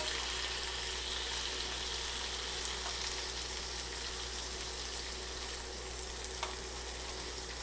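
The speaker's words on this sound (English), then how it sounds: "All we got to do is saute some shrimp." Shrimp sautéing in a hot pan for an Asian chili lime dish, a steady close sizzle that holds unbroken throughout with only faint stray clicks.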